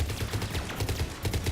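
Rapid bursts of gunfire from a Mass Effect 3 firefight ring out in dense, continuous volleys over about a second and a half, loud and close with no talking.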